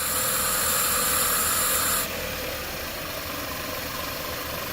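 A Toyota Camry engine idles with a steady mechanical hum and hiss, then its tone drops and quiets as the revs fall, with no talk over it.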